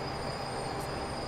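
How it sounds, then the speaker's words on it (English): Thalys TGV high-speed train from Transport Fever running steadily along the track, a continuous rolling rail rumble with a faint wheel squeal, no talk over it. "The Thalys high speed train there,"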